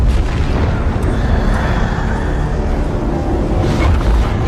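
Deep, sustained booming blast as a wall is breached during a battle in God of War Ragnarok, a loud continuous rumble with a swell near the end and no clear pause.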